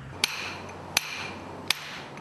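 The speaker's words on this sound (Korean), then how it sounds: "정다듬 기법이란 정과 망치만을 이용하는 기술로 고도로 숙련된 석공들만이 구사할 수 있는 능력이다" A hammer strikes a steel chisel to dress stone in traditional hand-tooling, three sharp ringing metallic taps evenly spaced about three quarters of a second apart, close and distinct over a quiet background.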